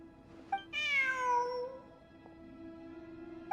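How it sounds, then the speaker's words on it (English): A cat in the game Genshin Impact meows once, a drawn-out, falling, close and clear call after a soft click, then a faint steady hum lingers alone. "Look, a cat."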